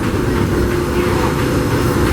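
The Disneyland Railroad train rolls along its rails, a close, steady rumble of wheels and car noise with no distinct clacks, alone with no talking.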